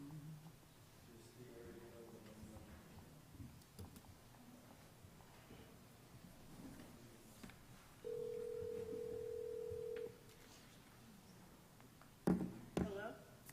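A ring-back tone on a phone call placed through a conference room speakerphone during a city council work session: background murmur of a room, then a steady two-second electronic tone, followed by a brief burst of clicks.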